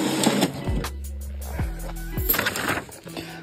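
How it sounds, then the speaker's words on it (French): A home printer printing a Cars logo, with repeated whirring motor sweeps and mechanical clicks in short rhythmic passes, heard close up. "Je vais imprimer un logo Cars pour le coller dessus"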